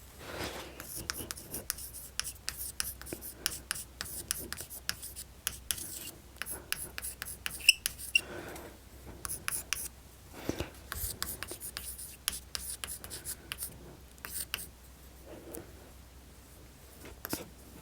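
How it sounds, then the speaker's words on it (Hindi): Marker or pen scratches across a board in short, repeated strokes while an organic chemistry practice question is written out for NEET exam prep, fairly quiet and close, with occasional faint speech. "अगला क्वेश्चन लिख दें, लिख दें, लिख दें"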